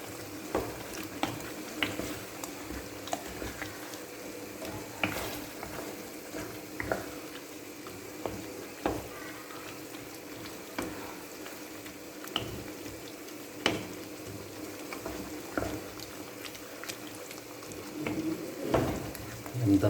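Chicken liver (kaleji) cooking in yogurt in a kadai wok over low heat, a steady soft sizzle and bubbling with occasional sharp clicks of a spoon stirring against the pan.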